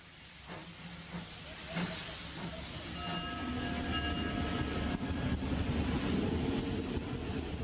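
A Baldwin-built steam locomotive more than a century old, now diesel-fired, vents sharp bursts of hissing steam over a deep rumbling idle, with a brief tonal whistle-like sound joining midway, loud and close.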